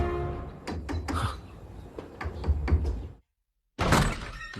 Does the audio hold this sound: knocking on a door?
yes